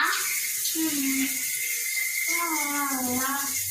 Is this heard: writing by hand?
no